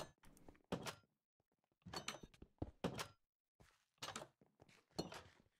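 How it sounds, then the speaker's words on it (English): Blocky wooden door opening in the Minecraft video game, a series of short hollow thunks and clacks in close bursts, separated by brief silences. "Why did you open this door, bud?"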